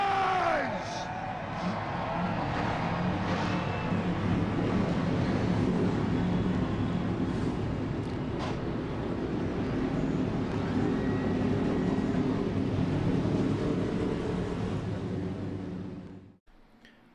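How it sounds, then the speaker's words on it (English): Race truck engines fire up and roar together in a racing video game at Phoenix, a dense, loud, sustained rumble that fills the scene before cutting off abruptly near the end. "Drivers, start your engines!"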